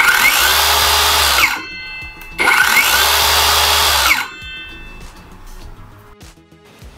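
An Akaido cordless brushless circular saw with 165mm blade runs free twice, each time spinning up smoothly under soft start, holding a loud steady whine, then stopping abruptly under its auto brake, with quiet after.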